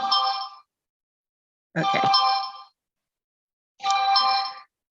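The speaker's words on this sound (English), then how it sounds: "my phone is ringing" A mobile phone rings during a talk: three bursts of a bright electronic ringtone, each about a second long and separated by silence, loud and close. A short word is spoken once.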